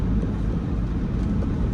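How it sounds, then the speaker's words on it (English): Car air conditioner blowing inside a moving vehicle, a steady low broadband whoosh mixed with road hum, continuous and close, no talk. "I just turned on the air conditioner"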